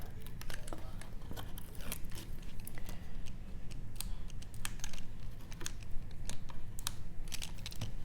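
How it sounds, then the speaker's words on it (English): Tape being peeled off floral fine-art artwork, a series of crackly ripping and ticking snaps close by, steady over a low background rumble with no talking. "And then we're going to take our tape off."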